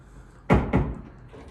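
The frosted glass bathroom door of a hotel executive suite at Bally's Las Vegas bumps twice in quick succession, two close, solid thuds with a short rattle after each, in a quiet room.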